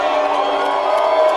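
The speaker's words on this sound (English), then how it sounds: "You can hear the crowd." Football game crowd at Piedmont roaring and cheering loudly and steadily, a dense sustained wall of voices with no break.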